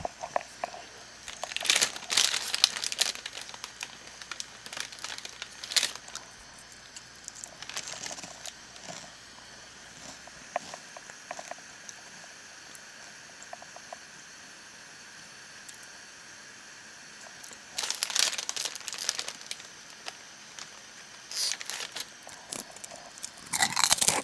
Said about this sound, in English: If you're wondering what that crunching noise is, it's me eating barbecue flavored potato chips.